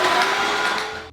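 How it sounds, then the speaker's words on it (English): A Black + Decker Vacuum and Wash Duo multi-surface cleaner runs in dry vacuum mode with a steady, loud motor whine and airflow roar that stays close and even before dipping at the end. "we're going to do dry vacuum first"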